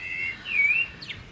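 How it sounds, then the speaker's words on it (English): A bird sings outdoors just after the rain stops, giving a bright, clear whistled phrase with a rising and falling warble followed by a short chirp. It is close and distinct, with no talking. "There's a bird out there singing his heart out."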